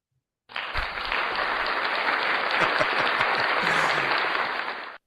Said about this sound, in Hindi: तालियों की आवाज सुनाई दी।